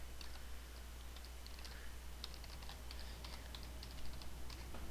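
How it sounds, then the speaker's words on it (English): Quiet keyboard typing of an account name and password, with soft scattered key clicks over a low steady hum, fairly distant and alone. "you type in your account password and account name"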